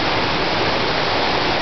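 A small waterfall on an indoor river inside a hotel atrium produces a loud, steady rushing roar of falling water, constant and broad with no breaks and no voices.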